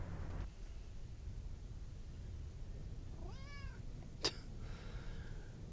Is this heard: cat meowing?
yes